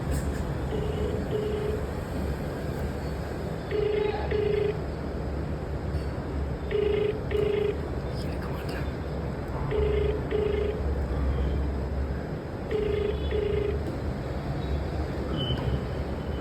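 Outgoing phone call ringback: regular paired tones repeat about every three seconds, with a steady background hum underneath and nobody speaking yet.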